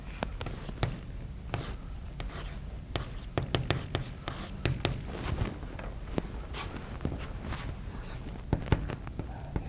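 Chalk or marker writing on a board in an engineering lecture room, a busy run of quick scratchy strokes and taps that continues throughout, close and fairly loud.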